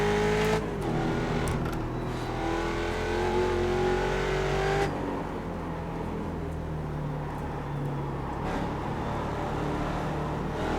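A Mustang race car in iRacing's Mustang Challenge at Mid-Ohio, the engine roaring loudly and continuously close by, revving higher before easing off as it exits a corner, with no talk over it.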